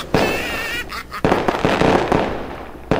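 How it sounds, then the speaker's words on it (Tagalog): Loud New Year firecrackers burst in a dense, crackling barrage, with sharp repeated bangs and a thick noisy wash running throughout. "Malakas pa naman ang paputok."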